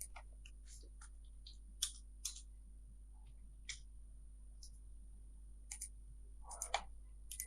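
Computer mouse clicks during a tax software demo, sparse sharp single clicks spaced out over quiet, a few in quick pairs, close and light.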